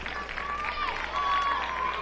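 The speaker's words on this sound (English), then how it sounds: "We've got most of the Muldrow boys basketball team here cheering their ladies on." A crowd of fans cheers at a high school girls basketball game in a gym, with Muldrow's boys team among them. The steady roar and scattered whoops carry on under a commentator's voice.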